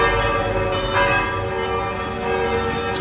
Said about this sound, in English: Bells are chiming. Must be time for Mass.